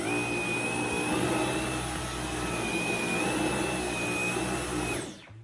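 A Dyson V12 cordless vacuum cleaner runs steadily on carpet, a loud close whirring drone with a high motor whine that dips slightly midway, then cuts off at the end.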